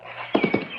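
Horse hooves clip-clop at a walk as riders set off: four distinct, fairly close hoof strikes in an even rhythm over a low background hum.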